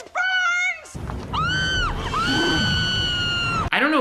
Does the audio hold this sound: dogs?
no